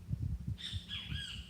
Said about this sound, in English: That bird's got a Scouse accent.